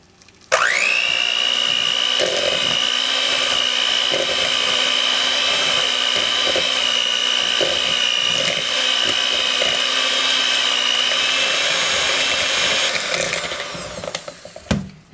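An electric mixer creams brown and granulated sugar together for homemade banana bread, its steady loud whine running for about thirteen seconds before winding down and stopping.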